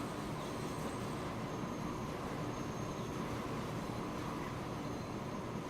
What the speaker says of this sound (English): I love the electric suburban trains on their way